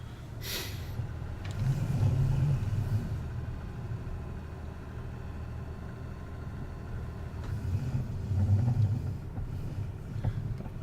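Tractor engine in the video game Farming Simulator 19, a steady mid-pitched drone that swells twice as the tractor revs and then eases back, with no talking.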